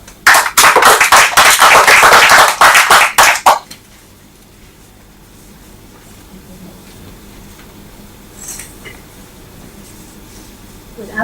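Applause from the audience at a Toastmasters meeting welcoming Toastmaster Chima: a few seconds of loud, close clapping in uneven bursts that cuts off abruptly, followed by quiet room tone.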